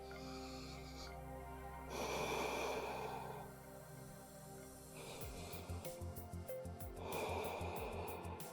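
A person holding a yoga pose takes slow, deep breaths, long audible inhales and exhales alternating in a steady rhythm, close and breathy over faint background music.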